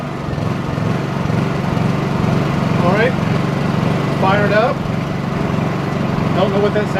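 A small propane-converted generator runs with a steady low engine hum, quiet and even throughout, with people talking over it in brief bursts.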